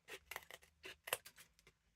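Scissors snip through journal paper pages in a handful of short, close, crisp cuts with small pauses between them, and no voices.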